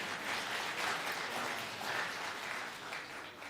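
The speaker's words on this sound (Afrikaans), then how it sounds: "Gee net vir hom 'n hande klapie." Audience clapping at a Sunday church gathering, a steady wash of hand claps from a crowd holding at an even level for a few seconds, with no voices over it.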